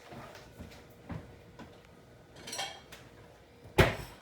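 A bowl is taken out from among the dishes in a home kitchen. Several light clinks and scrapes of crockery and utensils are heard close by, ending in one sharper, louder clatter, with no talking.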